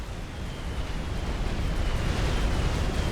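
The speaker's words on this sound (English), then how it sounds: "Down goes a battleship." A battleship blows up in a multiplayer strategy game battle, a loud rumbling blast that swells and keeps roaring for several seconds with no voices over it.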